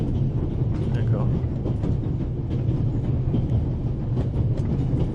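Steady rumble of a train ride in The Raven Remastered, a continuous low rolling drone with faint rattles throughout, loud and unbroken for the whole stretch.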